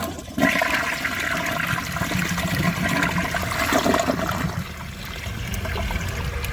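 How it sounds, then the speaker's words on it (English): A toilet flushing up close, a loud continuous rush and swirl of water that holds steady for several seconds, then settles into a lower gurgling refill. "I'm going to give this another flush and rinse that last little bit of dirt off"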